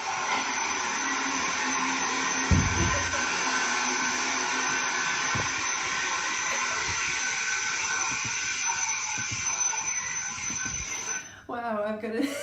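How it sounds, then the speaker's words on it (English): A Hoover vacuum cleaner runs as a steady, loud whine and roar for most of the stretch in an exercise class setting, with a few thumps and knocks, then cuts out near the end as a voice speaks. "Debbie's just decided she's quickly going to whip out the Hoover"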